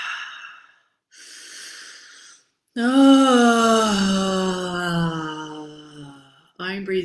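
A woman takes heavy, strained breaths in and out, first short and hoarse, then one long, drawn-out inhalation with a voiced, wheezing edge, close and loud.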